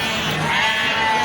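A single sustained sheep bleat at an Indonesian livestock market, loud and nearby, lasting the whole moment against a noisy market background.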